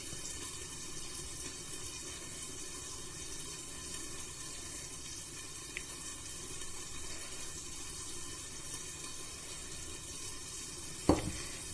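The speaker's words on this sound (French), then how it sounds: "Je vais lui rajouter notre sirop" Cold syrup poured over a lemon cake fresh from the oven gives a steady, soft sizzling hiss close by, with a single sharp knock near the end.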